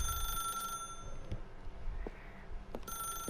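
A telephone rings in The Stanley Parable, a high electronic trill in two bursts separated by a short gap, moderately loud over low rumbling background noise, with faint knocks in between.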